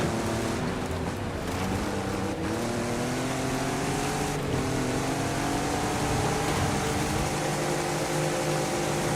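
Car engine held in sixth gear in Forza Horizon 5, a loud continuous droning roar with slowly shifting harmonics and occasional small rev changes, no talk.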